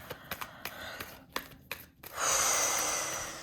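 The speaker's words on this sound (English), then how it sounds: "Get into the habit of breathing in through your nostrils, in through the nostrils, out through the mouth" A deep breath drawn in through the nostrils: a few soft clicks and short sniffs, then a long, close, airy inhale that swells and holds steady to the end, with no talking.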